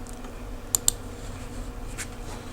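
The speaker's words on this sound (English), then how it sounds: "Go to dictionary.com, right? And type in the word graciousness" A few sharp clicks of computer keyboard keys, two quick taps close together followed by a softer one a moment later, close and clear over a faint room hum.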